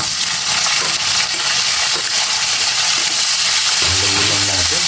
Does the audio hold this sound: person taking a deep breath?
no